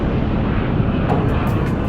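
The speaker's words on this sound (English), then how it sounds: "As the warplanes approached the target, they suddenly came face to face with the enemy." World War II warplanes, a formation of bombers and fighters, roar overhead in a loud, steady broadband drone with no pauses and no voices.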